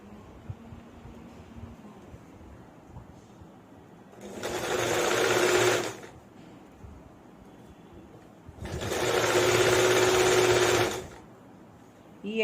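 An electric sewing machine stitching a designer frock, running in two bursts of about two seconds each, loud and close with a steady whirring drone, separated by quiet pauses with faint background noise.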